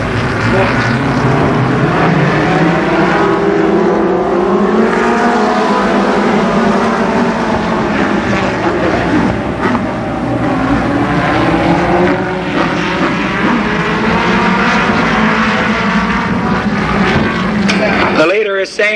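All American midget race cars roar together at Columbus Motor Speedway as the field gets ready for the start of a 25-lap race, a loud, continuous engine drone with shifting pitch that fills the whole stretch.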